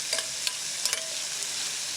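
Shrimp sizzle and fry in a hot pan in a steady crackling hiss, with a few louder spits and stirring clicks close by and no one speaking.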